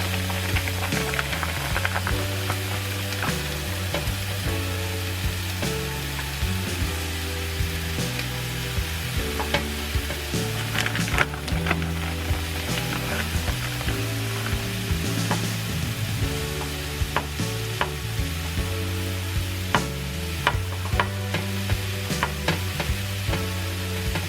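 Food browning in a pan with a continuous even sizzle, overlaid by intermittent scraping and tapping of a utensil stirring, steady and close with no talking.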